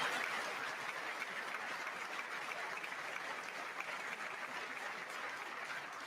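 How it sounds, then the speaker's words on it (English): Sustained audience applause during political remarks on the economy, a dense, even wash of many hands clapping, somewhat distant and steady throughout with no speech over it. "wasn't sure if anybody even on this side was going to applaud for that"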